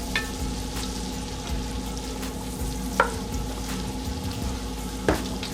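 Keto broccoli cheddar soup is stirred in a pot, making a gentle continuous bubbling sizzle with a steady hum beneath and two sharp spoon clinks against the pot's side.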